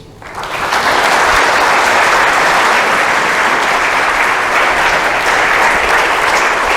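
An audience at a science talk applauds to welcome a speaker to the stage, a sudden swell of dense, loud, steady clapping that holds evenly throughout.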